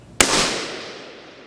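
A single sharp rifle shot fired at a distant target, recorded close to the shooter, sounds loud and abrupt, with a long rolling echo that fades out over about a second.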